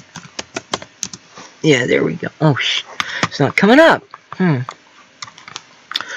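Computer keyboard keys clatter in short bursts, mostly at the start and near the end, while a person talks over much of the middle.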